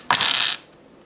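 Four dice clatter together in a single quick roll during a Quorsum board game, a bright close rattle lasting about half a second before fading.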